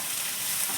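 Cut potatoes frying in a pan for aloo methi curry, a steady close sizzle that holds evenly through the short moment with no voices.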